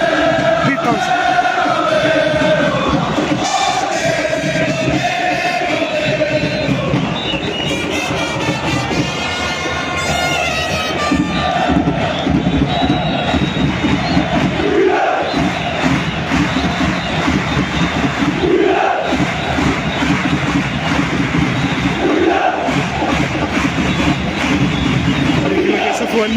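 Wydad Casablanca supporters pack Ibn Batouta stadium in Tangier before a match against Ittihad Tanger, a dense, loud crowd roar with chanting and surging cheers running continuously throughout.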